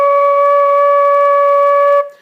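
Flute sounding C sharp with only the pinky key down, a steady, clear sustained tone held for about two seconds before breaking off, alone and close.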